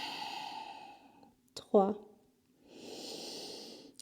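Ujjayi breathing during a yoga hip stretch: two long, hushed, ocean-like breaths through a constricted throat, close and steady. A single spoken word falls in the pause between them.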